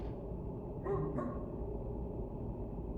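Gunpowder the dog in the horror game Teleforum gives two quick barks close together, moderately loud over a steady low background rumble.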